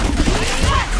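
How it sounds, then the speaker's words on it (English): Bomb explosion in the Killer Instinct fighting game, a loud, dense burst of crashing, crackling noise that fills the whole second with rumbling low end, mixed among game effects. "The explodey bomb went off"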